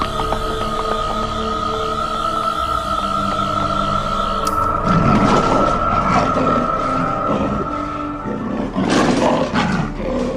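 A lion roars loudly and close in a dramatized scene, a deep sustained growling roar over a droning, siren-like background tone, with the roar swelling and rumbling in waves and no speech.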